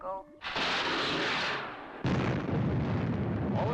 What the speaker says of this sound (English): All interceptors bang on target.